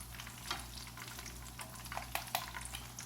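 Leftover Thanksgiving croquettes fry in a pan with a steady, close sizzle, broken by a few brighter crackles and stirring scrapes.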